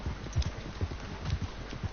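Horse hooves clip-clop in a brisk, uneven trot while pulling a carriage in Red Dead Redemption 2, dull thuds over a low rumble of wheels, close and steady, with no voices.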